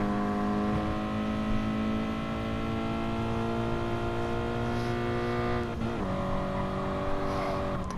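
Toyota race car engine in a racing game at Bathurst, droning steadily at high revs, then briefly dropping in pitch as it shifts gear near the end before pulling again, close and continuous.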